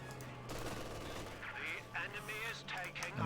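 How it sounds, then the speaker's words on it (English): MG42 machine gun fire from a World War II strategy game rattles in bursts among other battle noise, mid-distance and fairly faint, with a voice talking over it. "MG42 getting some good suppression."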